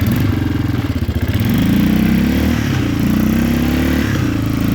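A 1988 Yamaha Big Bear 350 four-wheeler's engine runs loud and close, with a brief rev near the start before it settles into a steady rough drone with rattling.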